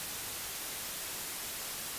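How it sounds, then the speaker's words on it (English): Steady broadband white noise generated in Adobe Audition, a flat, continuous hiss at low level with no variation and no voices. "you can see how it generates white noise there"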